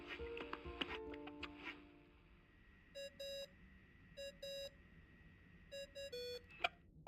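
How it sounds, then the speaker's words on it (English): Short electronic ringing beeps in the video game Genshin Impact repeat in pairs, each a bright steady tone, after a few scattered chimes; fairly quiet overall. "I really hate that ringing tone"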